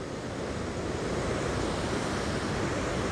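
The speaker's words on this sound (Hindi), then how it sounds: "इन पहाड़ों पर से झरना नीचे की ओर जा रहा है" A waterfall drops down a high mountainside, heard as a steady, dense roar of rushing water, broad and unbroken, with a windy wash and no voices.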